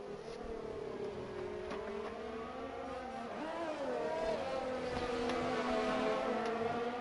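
Race car engines drone down the pit straight in an F1 esports race at the Australian Grand Prix, a steady high whining roar with shifting pitch that swells louder toward the end, continuous and alone.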